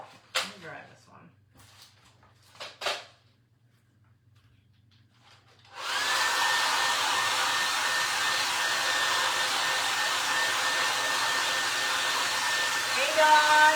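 A hair dryer drying paint on a wooden spindle for a patriotic holiday craft, switching on after a few quiet seconds and then blowing as a loud, steady roar until the end, with brief talk and handling noises beforehand.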